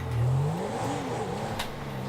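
Tuned turbocharged Porsche engine in Grand Theft Auto 5 revs hard, a rising whine swelling early and then settling into a steady, loud drone over the rest of the short stretch.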